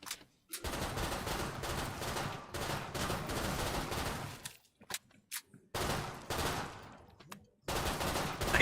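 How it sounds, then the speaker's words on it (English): Automatic gunfire in a video game, long dense bursts of rapid shooting broken by short pauses and a few isolated shots, loud and close. "I love seeing nothing and shooting into the middle of nowhere for the sake of trying to hit."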